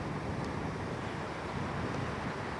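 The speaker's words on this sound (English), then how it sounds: "There's a bit of wind up here," Warm wind blowing across a high spot above a New Zealand beach, a steady broadband rumble of gusting air buffeting the microphone throughout, with no voices.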